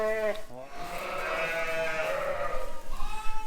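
Sheep and lambs bleat repeatedly at close range on a farm during lambing, including ewes and young lambs, with overlapping wavering calls filling the whole stretch.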